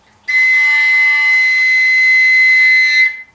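An open overtone flute, a koncovka, holds a piercing high C7 for nearly three seconds, loud, bright and steady like a whistle, with no other sounds around it.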